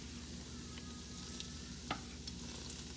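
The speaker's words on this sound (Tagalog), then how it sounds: "Lumulutang-lutang na siya sa mantika." Sugar-coated food frying and floating in cooking oil in a home kitchen, a steady soft sizzle with faint stirring scrapes and a low electrical hum beneath.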